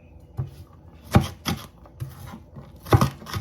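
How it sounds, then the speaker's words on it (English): Knife chopping mixed vegetables on a board, a handful of separate close thuds with a scraping edge, irregularly spaced, with no voices. "Chop them all together."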